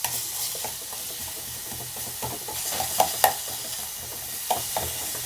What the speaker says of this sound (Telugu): ఇది ఇట్లా కలుపుకొని మెత్తగా చేసుకోవాలి ఫ్రెండ్స్